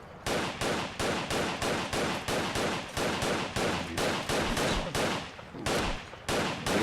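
Gunfire in Fallout 4: loud, regular bursts of shots repeating steadily, each burst cut off by a short gap, close and dominant with no talk.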